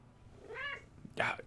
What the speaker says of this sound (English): the cat has spoken